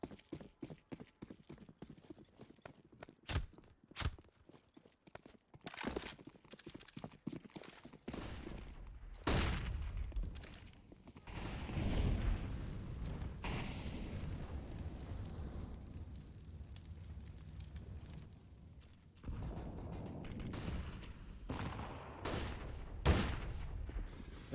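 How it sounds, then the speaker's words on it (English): AWP sniper rifle shots in a professional Counter-Strike match between ENCE and ENDPOINT, sharp sudden cracks scattered through rumbling in-game gunfire and explosions, without commentary. "As the AWP shots connect"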